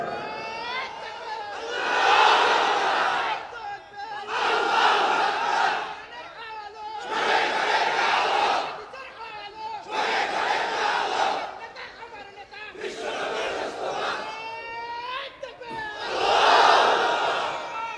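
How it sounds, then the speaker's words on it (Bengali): A large religious gathering roars a chant of takbir in repeated loud bursts, each surge of many voices swelling and fading with short pauses between, close and overwhelming. "দাও একটা তাকবীর দাও, গলা ফাটাই তাকবীর দাও ওমরের মতো জোরে।"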